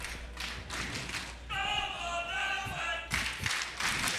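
Brazilian fans cheering and clapping in the crowd at a Rainbow Six esports major quarter-final, scattered claps and thuds with a swelling burst of cheering in the middle, heard at a distance in a large venue.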